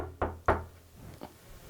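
Three knocks on a door, two sharp close raps followed by a softer, more distant third after a short pause, with no voices.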